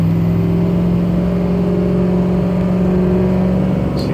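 A Ford F250 pickup cruising on a highway produces a steady, loud engine drone and road rumble heard from inside the cab. The sound stays constant with no talking.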